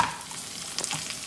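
Green chilies, ginger, mustard seeds and cumin frying in hot oil, giving a steady close sizzle with faint crackles and pops, no talking.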